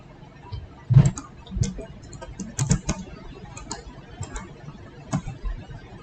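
Commands typed on a computer keyboard during a router NAT configuration exercise, irregular soft key clicks and taps, some heavier thumps, a low voice murmuring faintly underneath.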